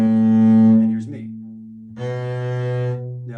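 Sustained upright bass notes on the G string, a low bowed or plucked tone held for about a second, a brief pause, then another long resonant note, close and alone.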